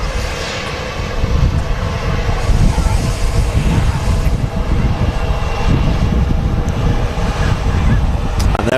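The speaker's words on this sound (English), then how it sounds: "the king of the skies departing Manchester Airport" A Boeing 747 airliner roars loudly and steadily as it departs Manchester Airport for Dubai, its broad jet engine rumble filling the whole stretch with no talk over it.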